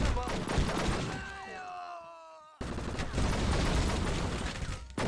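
Gunfire in the crime action video game True Crime: Streets of LA, dense bursts of shots with crashes and clatter, a brief drop to quieter tones before the barrage resumes loud and continuous.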